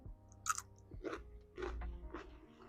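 Close, crisp chewing and crunching of a small garden snack from a zone 7b squash patch, with several bites followed by steady mouthing, quiet and alone with no talk.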